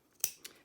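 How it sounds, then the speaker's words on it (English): Fabric scissors snip twice at the corners of a zip bag, two crisp, close cuts in quick succession against a quiet background. "We're gonna take our scissors and we are gonna round those corners"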